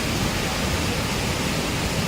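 Broadband rushing roar of the waterfall at Brooks Falls, a steady, loud wash of falling water holding constant throughout with no voices.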